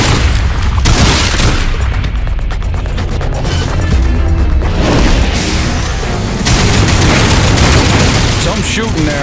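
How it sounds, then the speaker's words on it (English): Loud, dense gunfire and booming blasts from a Lost Planet 3 firefight, with continuous bursts layered over heavy low rumble throughout and no clear gaps. "Some shooting there."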